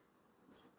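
A pen writes a number on a surface in one short, soft scratching stroke under quiet room tone.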